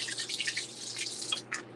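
A little water pours onto potted cannabis plants, a light trickling and dripping stream, close and fairly quiet, ending in a few separate drips.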